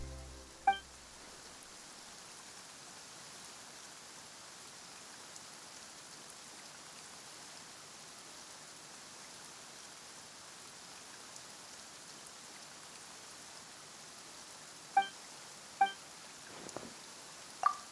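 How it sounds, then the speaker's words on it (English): Steady rain in the game Genshin Impact hisses continuously, with a few sharp clinks and taps standing out at the start and near the end. "Why is it raining all of a sudden?"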